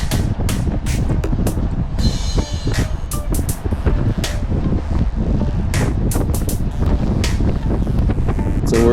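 Strong crosswind from the right buffets the microphone while cycling in a paceline, a constant loud rumbling roar with gusty bursts and no talking.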